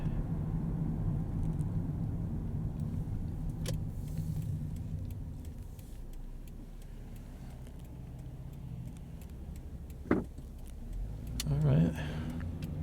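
A car rolls slowly down Ox Hill Road in Norwich, Connecticut, its engine and road rumble a steady low drone inside the cabin, with a couple of brief clicks and a rising engine swell near the end; a voice talks faintly at times.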